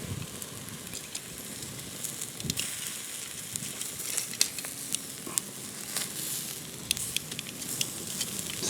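Steak sizzles directly on hot coals, a dense close hiss with scattered sharp pops and crackles throughout, no voices.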